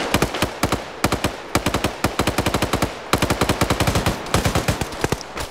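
Rapid bursts of machine gun suppressive fire from an Arma 3 PvP match, sharp close shots in quick rhythmic strings with brief pauses between volleys.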